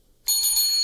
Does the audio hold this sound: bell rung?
yes